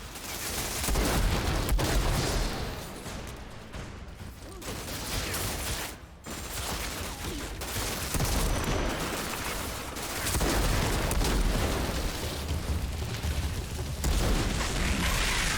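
Sniper fire in the video game Outriders: heavy, booming shots punch through a dense, continuous wash of combat noise, with intermittent sharp cracks over the whole stretch.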